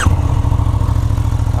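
A motorcycle engine fires up with a short whine at the start, then settles straight into a loud, close, throbbing idle.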